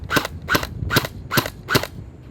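A WELL M401 toy blaster fires on full auto, letting out five sharp, snappy pops in an even rhythm about half a second apart. Each shot sounds close and crisp, with no talking.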